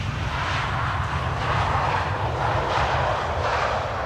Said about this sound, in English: ITA Airways flight 108 arriving from Rome, A321neo.